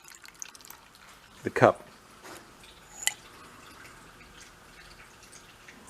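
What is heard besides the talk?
fluid draining and dripping from Simplicity 1250 snow blower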